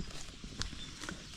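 Horses move nearby on a farm grazing area, a few soft hoof clops and shuffles standing out faintly against a quiet outdoor background.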